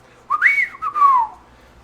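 A voice imitates a distinct two-part whistle, a rising then falling tone followed by a second longer swooping note, loud and close.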